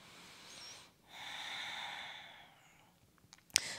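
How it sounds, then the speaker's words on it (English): A slow, soft exhale during a yoga stretch, heard as breathy air sustained for a couple of seconds after a brief earlier breath, close and quiet, ending with a few small clicks. "breathe out here."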